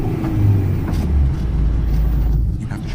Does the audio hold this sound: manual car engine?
yes